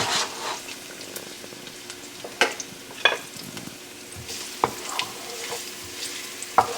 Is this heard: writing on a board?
no